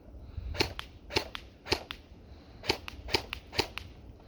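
Six sharp semi-automatic gunshots fired at a target 40 feet away, spaced in quick irregular pairs and singles, each a short crisp crack with little echo, no voices.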